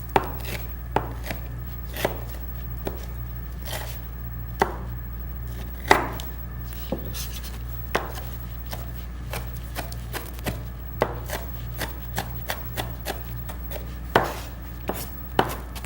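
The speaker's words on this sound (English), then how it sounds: "see how tiny we chopped those peppers?" A knife chops peppers on a cutting board for an entree salad, with steady sharp knocks spread across the whole stretch and a few louder strikes, close and clear with no talking.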